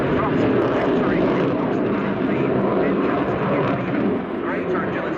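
A Sukhoi Su-27P fighter jet of the Ukraine Air Force roars loud and steady through a flying display at RIAT 2017 airshow, a broad continuous engine rush with a commentator talking over it.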